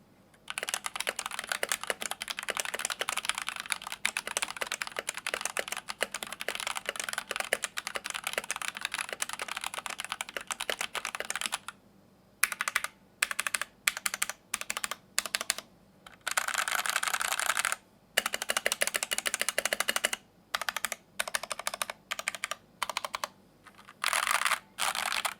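Fast, continuous typing clatters on a Noir OLV75 mechanical keyboard, with brief pauses between bursts of keystrokes, close and clear with no talking.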